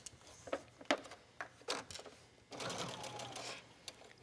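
A sewing machine stitches a seam on a hooded pool and beach towel, running in short uneven bursts and then in one steady, louder stretch near the end, with no talk.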